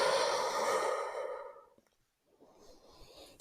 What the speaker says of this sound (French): et on expire